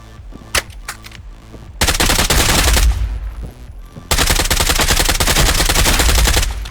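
Rapid automatic gunfire from a fast-firing weapon in the shooter game Contractors Showdown: two long, loud, continuous bursts with a short gap between them, after a few isolated sharp shots.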